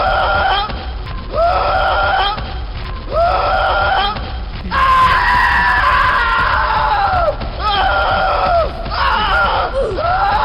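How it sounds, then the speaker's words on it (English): Shy Guy monster from a Roblox horror game letting out loud, harsh, wavering screams in repeated bursts of about a second each, with one longer drawn-out shriek in the middle, no talking. "When you see him, he'll play his scream animation"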